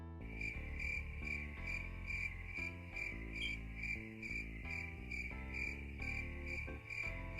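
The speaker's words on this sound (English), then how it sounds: "That's what we got. Crickets." Crickets chirp continuously in a dense, steady pulsing chorus, loud and close, with no voices, used as a comic silence effect.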